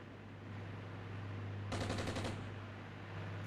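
In the video game Armored Brigade, a short burst of rapid automatic gunfire rattles out for about half a second over a steady low hum and ambient game noise, with no voices.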